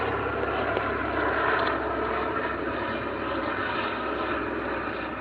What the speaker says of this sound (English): There's a chopper up there.